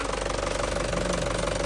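A hot Isuzu Panther Grand Touring 2007 diesel engine idles close by with a steady, dense knocking rumble that holds an even rhythm throughout, with no voices over it.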